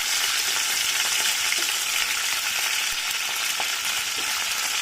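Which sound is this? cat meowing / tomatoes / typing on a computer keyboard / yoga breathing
tomatoes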